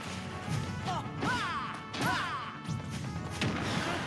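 Forward smash attacks landing in Super Smash Bros., a few sharp crashing hits spaced about a second apart over game music and crowd-like background, each with a bright swooshing ring after impact.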